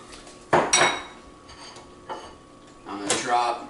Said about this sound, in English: So I'm going to drop my lentils in.